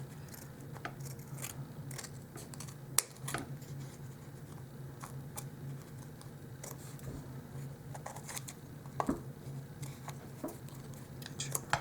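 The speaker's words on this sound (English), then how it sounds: "Now I'm going to carefully cut this." Scissors snip carefully around the edge of paper cardstock for a doll-size bento lunch box. The quiet, irregular crisp cuts and paper rustling run steadily over a low background hum.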